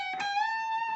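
Electric guitar lead on the high E string, a single note picked, bent up and held with wavering vibrato, rich in overtones and sustained for the full second.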